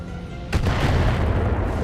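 An LR5 missile strike lands on a mech in the BattleTech game, a sudden booming impact that swells into a rumbling, crackling blast lingering for over a second.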